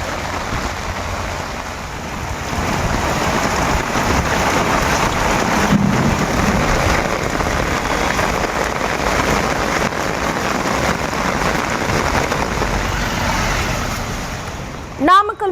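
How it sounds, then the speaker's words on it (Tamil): Heavy rain pours down steadily in a thunderstorm over Tiruchengode in Namakkal district, where water runs across the road like a river. The roar is loud and continuous, with a low rumble of thunder rolling underneath. "இடி மின்னலுடன் வெளுத்து வாங்கிய கனமழையால் சாலையில் ஆறு போல் பெருக்கெடுத்து ஓடிய மழை நீரில்"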